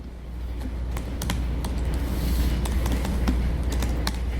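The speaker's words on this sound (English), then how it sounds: "Sorry, typing too fast." Fast typing on a computer keyboard, close and steady, with rapid irregular key clicks over a constant low hum of room or fan noise.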